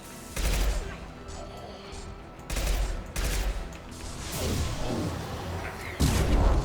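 Bursts of gunfire in the Mass Effect 2 video game, heavy volleys of shots in several loud clusters with booming impacts between them and brief talk mixed in.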